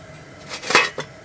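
A metal grate set down onto a propane turkey fryer burner gives a couple of quick metallic clanks and a short rattle, close and fairly loud, then a lighter clink.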